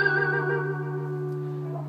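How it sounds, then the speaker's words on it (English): A single guitar artificial harmonic on the 11th fret of the third string, a bell-like tone sustained with gentle vibrato and slowly fading over two seconds, close and alone. "we're going to do an artificial harmonic on the 11th fret of the 3rd string."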